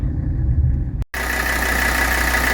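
A 1982 Mercedes 300D diesel engine idles warm with a steady low rumble and clatter, loud and close, cut by a brief gap before the same even idle resumes.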